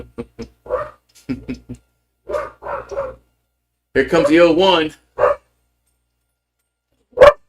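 Two dogs bark back and forth in short separate bursts, close and loud, between stretches of play-by-play commentary on a college baseball game.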